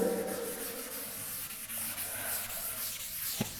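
Writing is rubbed off a classroom board in a continuous scrubbing and swishing stroke that ends with a small knock.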